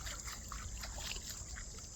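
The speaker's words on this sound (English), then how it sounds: "We're walking in the creek, y'all." Someone walks through a creek in a backyard, producing soft, continuous trickling and light splashing of water, faint and steady throughout with no talking.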